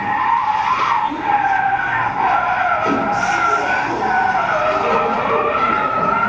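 Cars skid on a highway with a sustained, loud tire squeal and screech running throughout, heard as a played recording of crashes and collisions, with no clear impact standing out.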